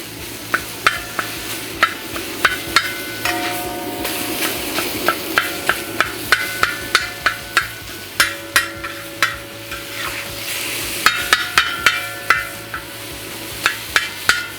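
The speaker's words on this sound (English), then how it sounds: "we wanna get our meat in. All right, we need to get that broke up." Ground meat sizzling and being stirred and broken up in a cooking disk, with a loud, steady fry under repeated sharp metallic scrapes and knocks of a utensil against the disk, close and with no talk.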